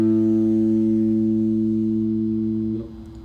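An open A string on a guitar is plucked once and rings out loud and steady for nearly three seconds before it is damped, with a faint trace of the next movement at the end. No one speaks.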